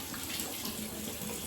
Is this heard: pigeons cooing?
no